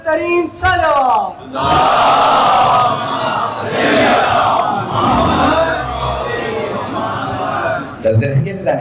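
A congregation at a majlis chanting salawat, many voices roaring together loudly in long sustained waves, with a single speaking voice briefly at the start and end.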